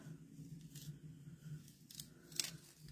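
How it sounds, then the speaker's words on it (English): Someone carefully peels a reusable mask off a paper card front, giving a few soft, brief tearing rasps over a low steady hum, quiet and close. "I'm just going to carefully peel this off"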